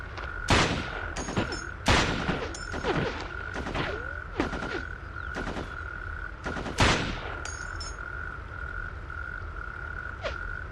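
Gunfire in the video game Ghost Recon 2: sharp, loud shots crack irregularly, some in quick bursts, over a steady high ambient tone, with no talking.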